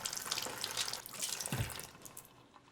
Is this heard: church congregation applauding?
no